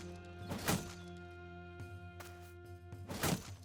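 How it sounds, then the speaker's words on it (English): In the video game Battle Brothers, a thrown javelin hits with two dull thunks, one early and one near the end, over a steady tonal game background hum. "Javelin."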